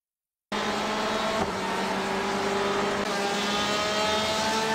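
A sim race car in iRacing during a crash replay, with a loud, steady engine drone and tire noise that starts abruptly after a brief silence and carries on without a break.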